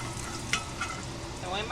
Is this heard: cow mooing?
no